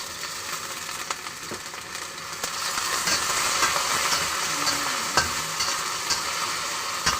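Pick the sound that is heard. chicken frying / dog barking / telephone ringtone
chicken frying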